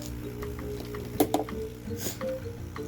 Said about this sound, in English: What I'm going to do is add a lot of water.